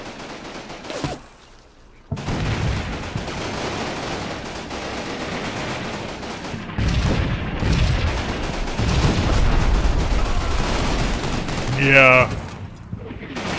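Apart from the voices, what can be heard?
gunfire and artillery fire in video game Combat Mission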